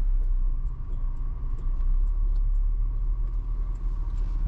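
A car rolls in to park at a development site near Tulum, its engine a steady low rumble close by, unbroken through the whole stretch with no talk over it.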